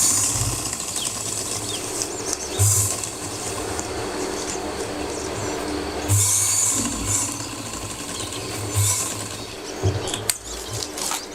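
A sewing machine runs steadily through fabric during stitching practice, with a continuous mechanical hum and rattle and a few brief bumps and pauses where the machine stops and restarts. No one talks.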